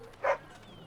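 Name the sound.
dog barking in Dragon Age: Origins video game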